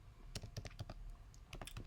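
A computer keyboard is typed on with about a dozen quick, close keystrokes in two short bursts and a brief pause between them, quiet and free of talk.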